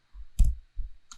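Computer keys tapped on a keyboard in a few short bursts, a cluster of clicks near the start and a brief tap at the end, close and fairly quiet with no talking.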